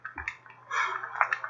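A running dishwasher in a home gives muffled splashing and gurgling water, close by, with short sloshing bursts over a low steady hum.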